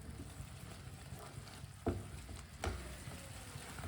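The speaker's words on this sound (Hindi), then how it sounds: "अदरक को 3-4 मिनट के लिए इसे भून लेना है। ऐसे ही चम्मच चलाते हुए" Ginger fries in a pan and is stirred with a spoon: a steady soft sizzle with a couple of sharper scrapes and clinks of the spoon, close and quiet with no talking.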